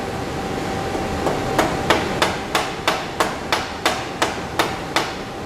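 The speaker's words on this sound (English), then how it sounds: "I'm going to gently but firmly tap the vise and watch the needle" A vise is tapped repeatedly to nudge it back into position, giving about a dozen sharp metallic knocks at a steady, slightly quickening pace, close and loud over a faint background hum.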